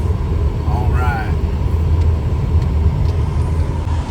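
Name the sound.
car driving on the road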